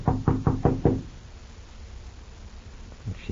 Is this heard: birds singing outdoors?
no